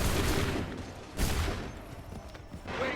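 Musket volleys crackle in a battle scene from the video game Assassin's Creed 3, several dense bursts of fire spread across a busy, noisy background of scattered shots and commotion.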